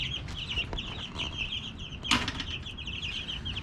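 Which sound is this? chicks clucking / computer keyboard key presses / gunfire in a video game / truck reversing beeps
chicks clucking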